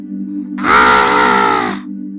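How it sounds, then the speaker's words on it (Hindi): A girl named Maya in a haunted-mansion horror story lets out a single loud, sustained scream of about a second over a low droning background score. "माया जोर से चीखती है"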